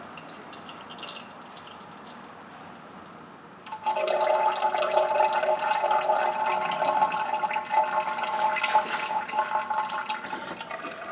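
Fluid from an old filter starts draining after a few quiet seconds, becoming a steady, close splashing trickle that pours on without pause.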